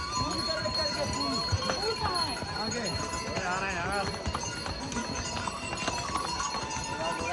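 Hooves clip-clop on the stone Kedarnath trail above Gaurikund, a steady, fairly loud clatter among a busy crowd, with people talking and a faint whinny in the mix.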